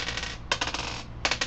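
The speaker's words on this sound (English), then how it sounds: "I'll just roll the same dice pool" Small dice rattle and clatter on a hard surface during a tabletop role-playing game, a quick run of light clicks, a pause, then another short burst, faint and close with no talking.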